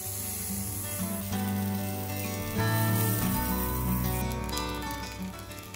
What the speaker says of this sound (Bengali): এগুলো দিয়ে হালকা একটু ভাজা ভাজা হয়ে এলে যে ম্যারিনেট করা চালটা ছিল ওইটা আমি এর মধ্যে দিয়ে দিলাম।